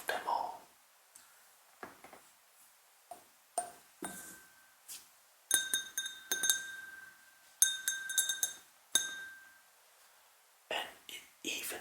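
Glencairn whiskey glass clinking and ringing in a run of bright taps and pings, some with lingering tones, under soft close whispering.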